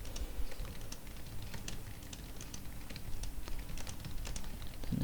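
Steady, fast typing on a computer keyboard while writing a Word document in a computer lab, with dense overlapping key clicks running throughout at moderate, close level over a low background hum.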